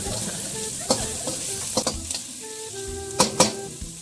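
Spicy tofu sizzles steadily in a frying pan, close and continuous, while a utensil stirs it, with several sharp scrapes and clinks against the pan scattered throughout.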